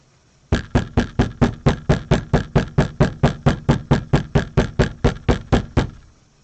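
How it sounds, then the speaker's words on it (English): An old, filthy brass instrument being knocked to clear out water: about twenty even, sharp knocks in a steady rapid rhythm, close and loud, with no other sound. "Knock all the water out of there."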